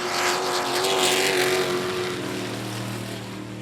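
Dirt trucks race around the I-37 Speedway oval in Texas, a loud, continuous multi-engine roar with a steady revving drone that swells briefly and holds as the pack runs down the back straightaway.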